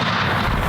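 A single loud, close rifle gunshot fired at a bison during a Montana hunt, a dense blast that fills the whole short moment.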